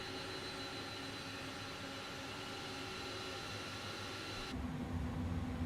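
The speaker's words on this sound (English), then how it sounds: "I'm just giving the chance for the APU to get going" Steady broadband whine and rumble of an iniBuilds A300 APU spooling up in a flight simulator, a continuous tonal hum that shifts and deepens partway through, with no talk.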